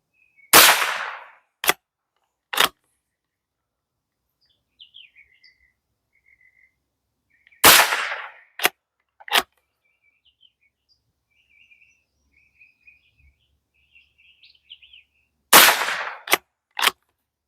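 A Hammerli Force B1 straight-pull bolt-action .22LR rifle fires three sharp cracks several seconds apart outdoors, each followed by quick bolt clacks, with faint birdsong chirping in the quiet gaps.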